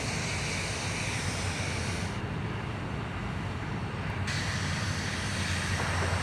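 A jet airliner arriving at Sydney Airport roars steadily and loudly throughout, a continuous broadband engine rumble with no pauses and no talking.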